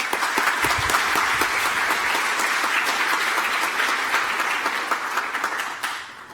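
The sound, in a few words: audience applause welcoming a speaker at a conference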